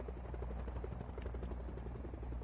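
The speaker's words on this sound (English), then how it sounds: "Somebody has a helicopter." A helicopter in a PS4 video game gives off a steady, loud rotor chop, a fast even beating over a low engine drone that stays constant throughout with no voices.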